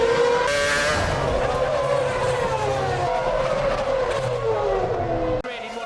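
A 2008 Formula 1 car loses its rear end and skids, tires squealing with a sliding, falling pitch over a high engine whine, while a commentator talks over it.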